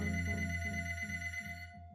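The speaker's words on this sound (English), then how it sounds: "That was when the phone rang." A telephone bell rings in a quick repeated electronic trill, bright and sustained for most of two seconds before cutting off, alone with no talking.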